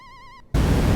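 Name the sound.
stuck humming sound in MAME emulation of War of the Worlds arcade game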